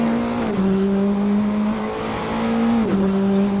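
Racing car engine in a racing video game drones at a steady high pitch, dropping and rising in tone through gear changes after a poor downshift, loud and continuous.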